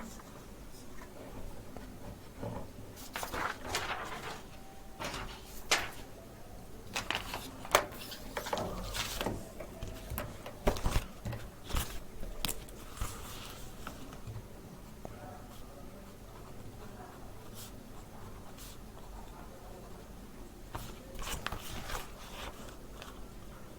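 Quick pen-on-paper writing during a Class 11 maths lesson on mathematical induction, a busy run of short scratchy strokes and taps, fairly close and steady, with no talk.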